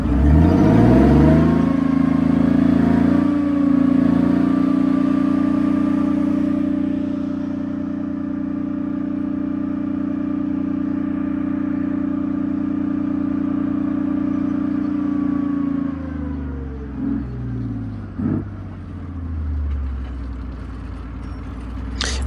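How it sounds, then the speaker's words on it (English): Chieftain tanks driving down into deep muddy banks, a loud heavy engine drone that holds steady and then revs and sputters near the end, close by with no talk. "When you're driving the Chieftains down into these deep banks, all you can see is the mud"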